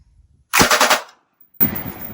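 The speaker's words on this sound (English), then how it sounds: "I'm going to fire off a few rounds" A Colt Light Machine Gun, an open-bolt LMG chambered in 5.56, fires a rapid burst of rounds, stops briefly, then fires a second burst, loud and close.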